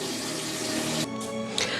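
Tap water pouring into a cooking pot for potatoes, a close, steady hissing rush that cuts off briefly partway through before resuming, with a small knock near the end.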